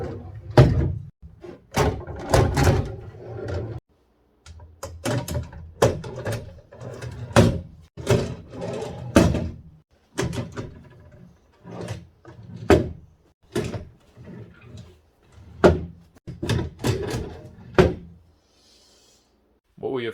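Wooden drawers being slid and pushed into a piece of furniture, a series of irregular knocks, thunks and sliding bumps at close range, with people talking between and over them.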